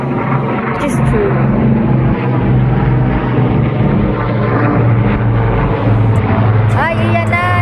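Jet aircraft roaring over a Canada Day air show in Ottawa, a loud sustained rumble that swells across the whole stretch, with people chatting beneath it.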